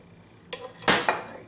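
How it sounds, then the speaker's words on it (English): Asparagus and mushrooms tossed in a pan with sauce give a few short clanks and scrapes of the pan, closely miked, with two louder bursts near the end. "Give these all a little toss in the pan so they get that sauce on them."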